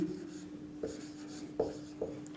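Chalk or marker strokes on a board during a physics optics lesson: a few sparse, crisp taps and scrapes over a steady low hum, with no talking.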